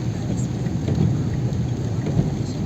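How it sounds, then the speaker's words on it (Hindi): Heavy rain pours down over Delhi during a windy, cold thunderstorm, a dense, steady roar of drops with deep rumbling thunder rolling underneath, loud and continuous with no voices. "बिल्कुल, बहुत तेज बारिश है"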